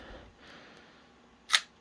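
A single sharp mechanical click from an Ur-Leica camera's film advance and shutter, close and brief after a soft rustle of handling, with no talk.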